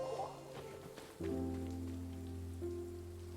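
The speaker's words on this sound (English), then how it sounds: "It's raining!" Steady rain falls across a Genshin Impact game scene, a soft continuous patter that swells after a sharp onset about a second in, with a low sustained musical tone underneath and no voices.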